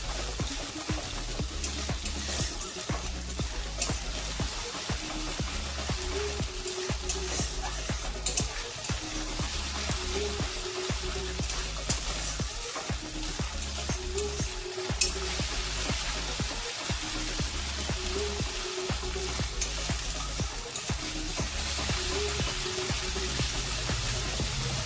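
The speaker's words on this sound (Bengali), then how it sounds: "মশলা আগে ভালোভাবে কষবো" Masala spice paste frying in a pan for a vegetarian lau sukto, a steady sizzle broken by repeated scraping strokes of stirring at an even rhythm. It is close and moderately loud, with no talk.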